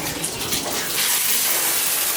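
An older Delta shower faucet runs with a steady, loud hiss of spraying water that grows a little fuller partway through, close by with no voices.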